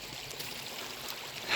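A little creek burbles and trickles steadily nearby, a soft continuous wash of flowing water with no voices.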